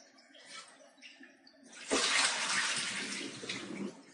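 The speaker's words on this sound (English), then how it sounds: "you just turn it on and let the water flush out everything" Water rushing through an Enagic water ionizer machine during cleaning, starting as a faint trickle then surging into a loud steady gushing flow that runs on, close up without speech.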